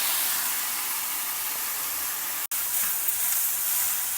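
Onions, green chilies and chopped mixed vegetables fry in a pan for a white kurma, giving a loud, steady, close sizzle with one brief cut in the sound midway and no talking.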